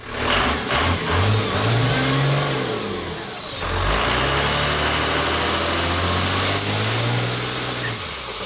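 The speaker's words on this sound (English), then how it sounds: "this one has a 12-valve Cummins turbo diesel in it out of a 98 F700 Ford medium duty pickup truck" A 12-valve Cummins turbo diesel from a 1998 Ford F700 medium-duty truck, fitted with bigger injectors, injection pump and turbo, runs loud and close, revving up and down in swells, with a turbo whistle rising and falling above the engine.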